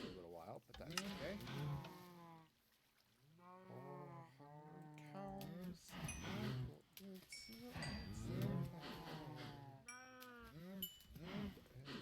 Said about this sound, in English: They're just going to sit here and moo at us for a little while